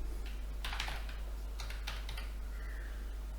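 Password being typed on a computer keyboard, a quick cluster of soft key clicks followed by a few separate taps and a final keystroke, close and quiet over a low hum.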